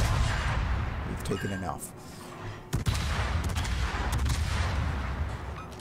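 Naval gunfire salvo in the World of Warships, tier 10 cruiser Salem in battle: a loud continuous rumble of cannon fire and explosions with a sharp boom near the middle, while someone talks over it.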